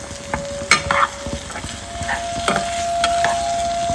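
Paneer bhurji sizzles in a frying pan while a spoon stirs it, giving scraping clinks and soft clatters over a steady low hiss of frying, close up with no talking.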